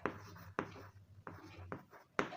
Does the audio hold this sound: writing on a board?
yes